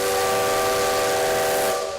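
Steam whistle of the Maria Fumaça, a 1950s steam locomotive, sounding one loud, steady, sustained tone over a hiss of steam, held close for about two seconds before it begins to fade.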